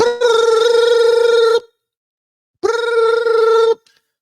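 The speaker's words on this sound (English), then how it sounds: "You get that phone call." A telephone bell rings loud and clear in two long electronic bursts separated by a short silence, with no voices present.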